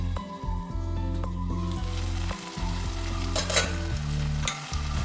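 Jackfruit seed stir-fry (thoran) cooks in a pan on the stove. A close, continuous sizzle runs under repeated scraping and stirring of a utensil against the pan, with a low hum underneath.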